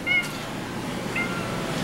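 A cat gives two faint, short meows close by, one at the start and one a second later, over quiet room noise.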